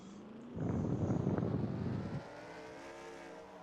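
Race car engines roar in NASCAR Racing 2003 as a pack at Daytona starts up, a dense loud rumble swelling for about two seconds then dropping back to a softer hum.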